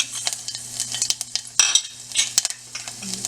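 Green chilies and cumin seeds sizzling in a tablespoon of hot mustard oil, with crackling spatter and sharp clinks of a spoon stirring in the pan, close and busy.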